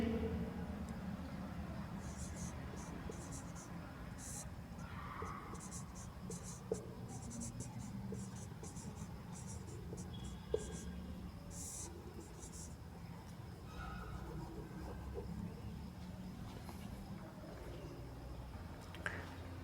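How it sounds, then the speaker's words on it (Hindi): Someone writes a sentence on a board during a Hindi grammar lesson, faint scratchy strokes with occasional soft taps under a steady room hiss, and a voice speaks quietly at times. "और एक वाक्य और लिख देता हूँ मैं"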